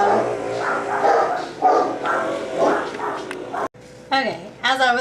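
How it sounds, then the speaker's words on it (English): Dogs barking at a home in an HOA neighborhood while a lawn crew blows away trimmings, repeated barks and yips fairly close and loud, mixed with continuous background noise and a voice talking. "I got rudely interrupted by the dogs barking"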